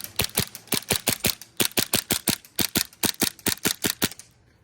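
Green gas YMS Black Beard TP22 carbine kit firing a steady string of about twenty sharp, evenly spaced shots, loud and close with no voices, ending in a short quiet tail.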